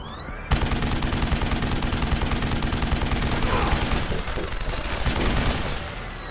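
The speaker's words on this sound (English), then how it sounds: "I just go big gun and go brr" Sustained automatic gunfire from a heavy machine gun in a shooter video game, a loud rapid continuous burst that starts abruptly and rattles on for several seconds before trailing off.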